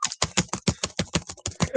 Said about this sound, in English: typing up in Google Docs.